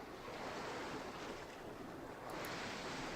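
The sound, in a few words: surf and waves sound effect in RPG Maker video game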